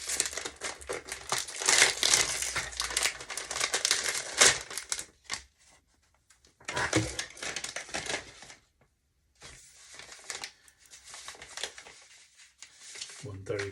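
Packaging for bass guitar strings for a five-string Squier Precision Bass being torn open, with close crinkling, rustling and tearing in bursts separated by short pauses, plus some faint clicks.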